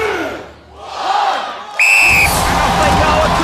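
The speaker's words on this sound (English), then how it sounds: "The crowd goes wild for Spartan, and he deserves it." A Gladiators event crowd roaring and cheering wildly, a swelling cheer that bursts into a loud sustained roar with a shrill whistle over it.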